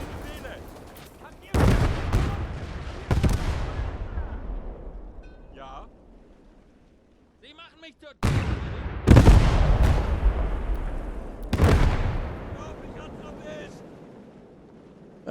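Heavy artillery fire in the WWII strategy game Call to Arms Gate: several deep, booming blasts, each rolling off into a long rumbling tail, with a faint voice speaking between the explosions.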